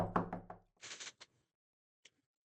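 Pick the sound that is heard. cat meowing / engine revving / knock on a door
knock on a door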